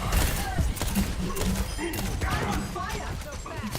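Rapid gunfire crackles in a video game match as a player fires a few bullets and reloads, the dense bursts and thuds mixed with people talking throughout.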